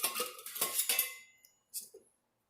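Metal pieces of a Stanley camping cooking set clinking and clattering together, several quick bright knocks and a rattle followed by a pause and a couple of lighter taps, close and alone.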